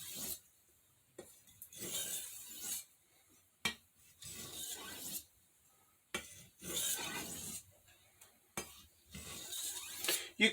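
A chef knife sharpened on a soft Arkansas stone, with repeated rhythmic scraping strokes, each lasting a second or two and separated by brief pauses, close and steady with no talking.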